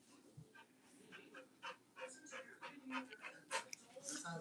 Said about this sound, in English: That heavy ass breathing.